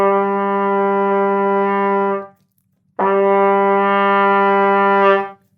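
Two sustained lower A notes on a wind instrument, held steadily at a loud, even level and separated by a short pause, with rich harmonics and no talking.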